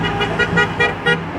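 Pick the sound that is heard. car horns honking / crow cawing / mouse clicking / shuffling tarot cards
car horns honking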